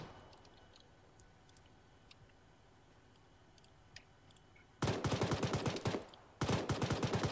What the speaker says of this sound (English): Look at those rounds coming in.